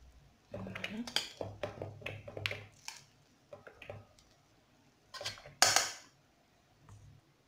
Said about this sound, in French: je vais transvaser dans un autre récipient pour faire refroidir mon riz